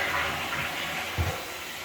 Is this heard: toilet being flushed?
yes